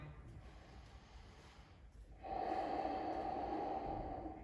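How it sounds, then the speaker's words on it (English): Quiet room tone gives way to a sustained, forceful nasal exhale during an ashtanga yoga class. The breath is close and steady and lasts the final couple of seconds, with no one speaking. "Chaturdasha, exhale."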